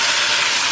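Water poured into a hot cooking pan with dumplings, a loud, steady broadband hiss of steam close by, with no voices.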